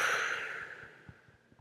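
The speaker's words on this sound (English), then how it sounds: "Taking a deep breath." One slow, deep breath drawn in and let out during a calm EFT tapping session, soft and close, fading over under two seconds with a few faint taps after.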